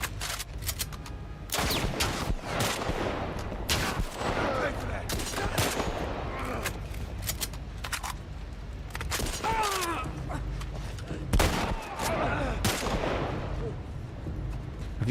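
Gunfire in The Last of Us Part I comes as repeated sharp shots and bursts spread across a long stretch, some close and loud, with in-game voices and scuffling between them.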